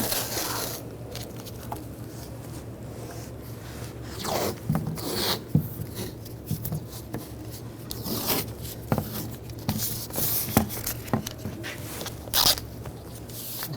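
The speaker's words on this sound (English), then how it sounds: "we're going to tape the window up. Just using some masking tape" Masking tape being torn and pressed onto the window of a 2011-2018 Ram 1500 truck, a close run of scratchy rips and rubbing strokes coming in bursts over a steady low hum.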